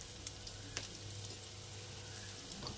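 Paneer kebabs shallow fry in oil in a pan, a soft steady sizzle with faint crackles and pops, close by and quiet, no talking.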